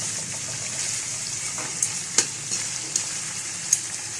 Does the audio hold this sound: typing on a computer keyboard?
no